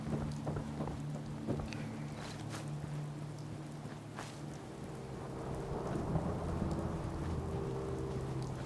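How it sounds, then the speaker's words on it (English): Thunderstorm weather at the Somerville Place settlement in Fallout 4, with steady rain hissing throughout and low rumbles of thunder rolling underneath, moderately quiet and without any voices. "get a lot of storms here of all different types"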